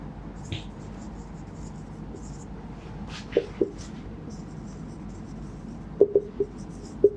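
Chalk or a marker writes sentences on a classroom board, giving soft scratchy strokes and a handful of sharp taps as letters are finished. The strokes are faint and intermittent over a low room hum.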